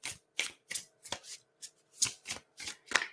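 Tarot cards shuffled and drawn in about nine quick, crisp riffling bursts, close and fairly loud, evenly paced with short gaps between them.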